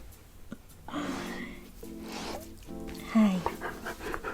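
A dog named Code pants close by in quick breathy bursts, mixed with whimpery tonal noises and a sharp yelp-like squeak, while a person speaks softly between them.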